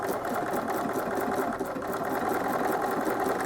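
Sewing machine stitching a quilt, a steady, close mechanical whir with rapid, even needle pulses running continuously without pause or talk.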